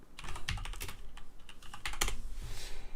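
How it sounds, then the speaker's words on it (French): Rapid typing on a computer keyboard, a quick irregular run of crisp key clicks with a few heavier strokes, close and clear, no talking. "On va taper le nom du produit."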